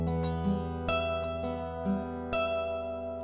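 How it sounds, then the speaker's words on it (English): A single electric guitar note held on the 12th fret with vibrato, a sustained tone wavering in pitch, quiet and alone, with faint pick or finger noises. "this is a lot of way guitarists put emotion into the playing is through like vibrato"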